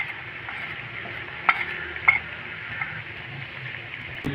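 Cumin, crushed red chili and white korma spices fry in a pan with a soft steady sizzle, broken by a couple of sharper stirring scrapes and clinks.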